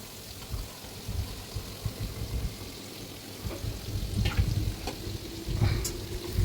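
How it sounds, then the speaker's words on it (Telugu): Marinated chicken pieces fry in hot oil with a continuous close sizzle and dense crackle that grows a little louder toward the end. No speech is heard. "ఇక చికెన్ ముక్కలు అయితే వేసుకున్నా, మ్యారినేట్ చేసిన చికెన్ ముక్కలు ఎర్రగా కలిపిన."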